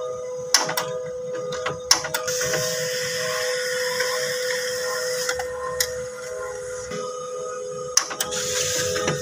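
A home printer runs through a page, its steady mechanical whir broken by sharp periodic clicks and clunks as paper feeds, loud and close with no talking.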